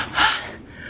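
A rider, winded after pedaling uphill, lets out one short, sharp gasping breath, close to the microphone.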